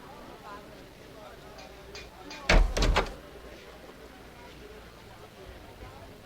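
A door opens in the video game Geneforge 3, a brief loud burst of a few sharp clattering hits about halfway through, standing out from quiet background ambience.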